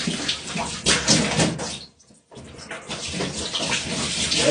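Liquid pours in a heavy stream from a jug onto a person's legs, a loud continuous splashing that breaks off briefly and then resumes.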